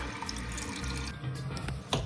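A toilet tank refilling after its supply valve is turned back on during a bolt, gasket and valve repair, with a steady close rush of running water and a brief splashy burst near the end.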